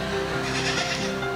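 A sheep inside a church gives a long, quavering bleat at close range, steady and loud throughout.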